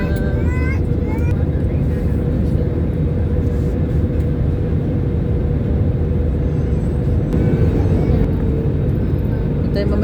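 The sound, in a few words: passenger airplane descending to land in Manila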